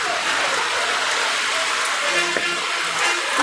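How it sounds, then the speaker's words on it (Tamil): Rain falls steadily over a town as a dense, even hiss of drops, with faint tonal sounds from the surroundings underneath and no clear talk. "இன்றைய தினம் அல்லாஹ் வந்து நமது ஊரில் மழையை இறக்கிக்கிட்டு இருக்கான்"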